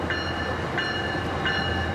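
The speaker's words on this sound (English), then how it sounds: "As a Metrolink train enters Cucamonga Station" A Metrolink train pulls into Cucamonga Station in Rancho Cucamonga with a steady low rumble, cut through by three short, evenly spaced high metallic squeals. No voices.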